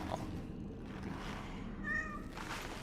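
In Cronos: The New Dawn, a cat gives a single short meow over a steady ambient hum, moderately close but fairly quiet.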